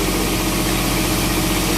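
A diesel generator aboard a boat at anchor runs close and loud with a dense, steady mechanical drone; over this short stretch the engine note holds fairly even.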